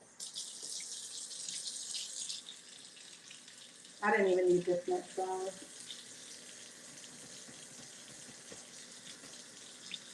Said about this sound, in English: Now when we add our little bit of warm water